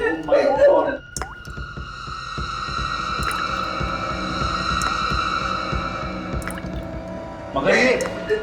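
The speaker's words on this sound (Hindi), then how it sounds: "खून टपक रहा है छत से" Blood drips from a ceiling indoors, a few sparse drops sounding as faint ticks under a steady humming tone, with voices talking at the start and end.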